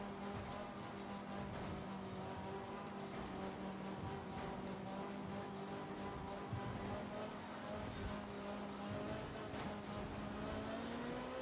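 Race cars on the RHEC Skyway Grand Prix track rev and accelerate away from the race start, a dense continuous engine roar with layered rising tones, steady and fairly distant.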